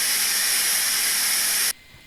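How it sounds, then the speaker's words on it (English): A steady, loud hiss of diffused steam from the release cover of an Instant Pot Pro pressure cooker, continuous and close, cutting off abruptly near the end. "the steam coming out of the steam release cover. It's a diffused steam"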